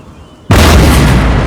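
Cannons in the video game Empire: Total War boom out after a brief quiet moment, one loud, close blast that rolls into a sustained heavy rumble.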